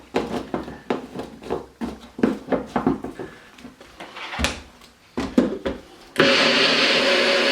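Green chili sauce of three green chilies, oil and apple cider vinegar is pulsed in a blender: a string of short choppy bursts that ends in a loud sustained whir.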